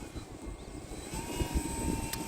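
Small Arrows Husky Ultimate RC airplane at quarter throttle, a steady distant engine drone with a thin whine, mixed with low rumbling wind noise throughout.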